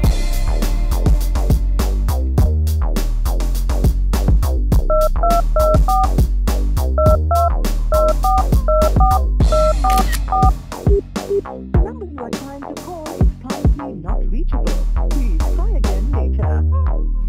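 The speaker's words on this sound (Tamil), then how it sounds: "இந்த நம்பருக்கு டயல் பண்ணு." A telephone number is punched in, sending a quick string of short, distinct keypad tones in uneven bursts over a loud, rhythmic background score.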